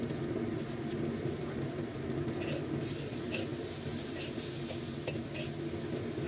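Shallots, garlic and chopped red bell pepper stir-fried in a pan, a steady close sizzle with scraping and stirring running continuously throughout.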